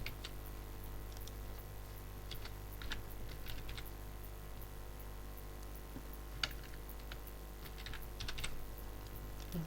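Keys on a computer keyboard are tapped as a name is entered, a faint, steady run of light clicks with a few louder strokes over a low background hum.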